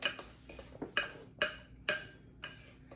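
A utensil mixing chewy chocolate chip cookie dough with flour and salt knocks against the bowl in about seven sharp, uneven clacks, close and fairly quiet, with no talking.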